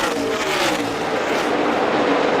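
NASCAR stock cars roar at full speed into turn 3 on the last lap of a race, a loud, continuous engine drone with no gaps and no voices.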